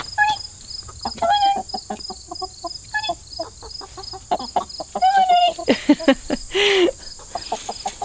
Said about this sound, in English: I'm gonna let my chicken out.